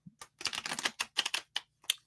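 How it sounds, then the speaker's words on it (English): Playing cards riffled and bridged in a series of quick crackling bursts, each about a quarter second long with short gaps between, fairly close and alone with no talk. "So, let me shuffle up."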